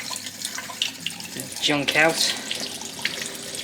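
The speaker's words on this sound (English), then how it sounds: "I'm gonna just try running some hot water through it to see if it makes any difference." Hot water running from a kitchen tap through a grimy computer water-cooling part, a splashing, gurgling stream with a person talking briefly over it.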